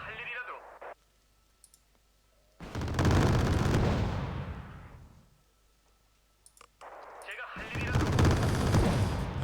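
Gunfire in the video game Wargame Red Dragon: long, loud roaring bursts of rapid fire that swell and fade, separated by quieter stretches with faint clicks, heard up close.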